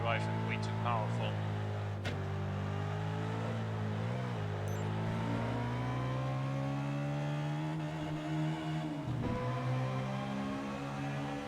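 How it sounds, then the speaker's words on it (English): A powerful rear-wheel-drive car in Test Drive Unlimited 2 holds a steady, droning engine note while its wheels spin endlessly in first gear, with the pitch barely changing. The sound is loud, sustained and close. "it just basically spins its wheels forever in first gear and doesn't go anywhere"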